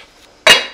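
A lid lands on a stainless steel pot with a single sharp metallic clink that rings briefly and decays, close and loud against a quiet kitchen.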